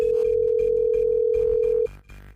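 A steady telephone dial tone hums loud and unbroken for almost two seconds as a radio show places a call, then cuts off, leaving faint line noise behind.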